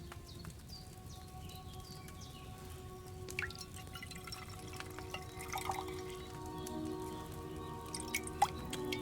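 Quiet dripping and pouring of liquid while a potion is brewed in Kingdom Come Deliverance 2, with scattered drips and trickles over a soft, busy background of faint tones.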